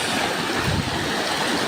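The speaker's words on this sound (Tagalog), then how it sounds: "Ito yung ilog dito. Umapaw na ang tubig sa tulay na ito sa barangay Samang Norte sa Bolinao," River water overflowing a bridge in Barangay Samang Norte, Bolinao, Pangasinan: a close, steady rushing roar of flowing water with no voices.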